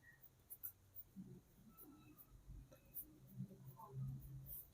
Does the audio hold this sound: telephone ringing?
no